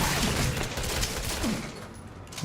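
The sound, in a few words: Magnum gunshots in video game Resident Evil 7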